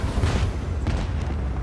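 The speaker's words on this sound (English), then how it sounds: "I can shoot the lance gun one more time." Lance gun fire and a ship explosion in the Warhammer 40,000: Rogue Trader space combat game, heard as a dull, rumbling boom with a low sustained roar and a couple of softer bursts trailing off.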